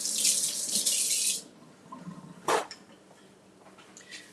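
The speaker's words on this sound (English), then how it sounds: "Let me rinse off the spatula." Water runs from a kitchen tap for about a second and a half while a spatula is rinsed, a steady close hiss that cuts off, followed by a few faint clinks and handling noises in a quiet room.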